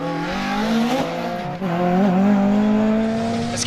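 An MG Metro 6R4 rally car spins on a circuit rally stage, its engine note sweeping and wavering steadily with tires scrubbing underneath, loud and close throughout, a brief dip midway, no voices.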